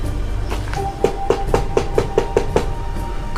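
Repeated knocking on a door as an audiobook sound effect, about eight sharp evenly spaced raps in a steady rhythm, loud and close over a low background hum, with no talking.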